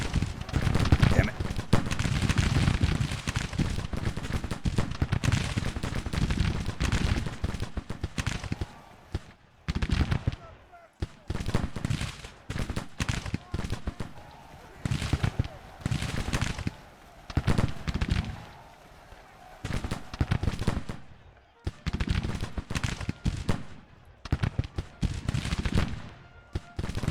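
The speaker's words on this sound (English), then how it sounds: "give me one more volley" Musket volleys in Grand Tactician: The Civil War, dense crackling bursts of gunfire rolling in repeated waves with brief gaps, loud and continuous under battle noise.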